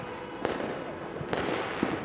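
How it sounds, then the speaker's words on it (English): Fireworks over the Thames in London on New Year's Eve, a few sharp distant bangs over a steady broad rumble of the open-air city night. "actually the bang of fireworks, which I hadn't expected"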